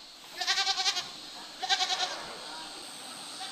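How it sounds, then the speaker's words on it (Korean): Black goats on a mountain farm bleat in two short bursts of wavering, stuttering cries, the first at about half a second and the second near 1.7 seconds, fairly close, with steady faint outdoor noise in between and no talk. "윤기 나는 검은색의 털이 시선을 이끄는 이 동물, 바로 염소인데요."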